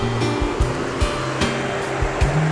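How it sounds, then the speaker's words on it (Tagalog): River water rushes and roars steadily at a crossing point in Tanay, Rizal, loud and close, with a repeated low mechanical hum pulsing underneath and no talking. "Yan yung ilog, oh."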